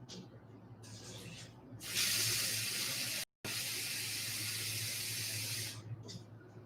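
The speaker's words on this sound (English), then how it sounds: "I'm getting some water." A kitchen tap runs water into a sink, a steady rushing hiss lasting several seconds that starts abruptly, cuts off for a moment, then resumes before fading out.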